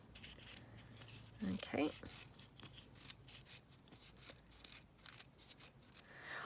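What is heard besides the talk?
scissors cutting fabric strips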